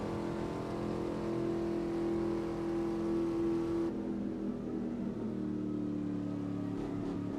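A Formula One car in a racing video game holds a steady high-pitched engine note at full throttle, with a brief drop and shift in tone midway as it runs flat out through a corner over a ridge.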